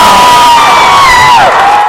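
A home Tiger crowd at a varsity boys high school basketball game roars after a dunk, loud and sustained cheering with shrill whoops sliding over the din.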